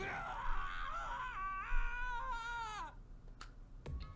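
Taka's sad, wailing scream from the Danganronpa video game, a long quavering, sliding cry over a low background hum, followed by a few sharp clicks.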